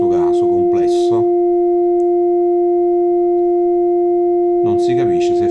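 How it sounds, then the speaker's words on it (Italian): Complex composite test tone with added harmonic distortion, a steady sustained multi-pitched hum held alone for several seconds, with someone talking just before and after it. "ascoltando questo tono composto, in questo caso complesso"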